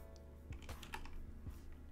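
Keys clatter on a computer keyboard as an Emacs shortcut is typed, a quick cluster of several close, crisp clicks and taps with no talking.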